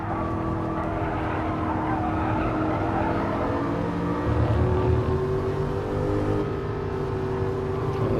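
Onboard a race car in a sim racing game as it backs off into the first corners: a loud, continuous engine whine that dips and climbs in pitch through gear and throttle changes, without speech.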